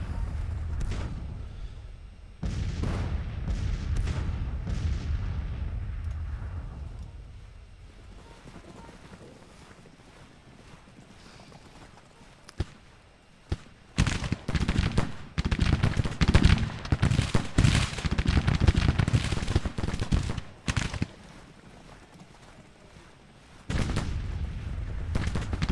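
Civil War battle in a strategy game, with gunfire and artillery: heavy booms and a low rumble early on, then dense, rapid volleys of musket fire crackling in long bursts, loud and continuous, broken by brief pauses.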